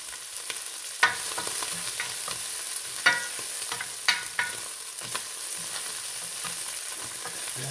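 Leftover lechon lamb frying in its own rendered fat, a steady high sizzle and crackle throughout with a few sharp spattering pops and stirring clinks, no voices.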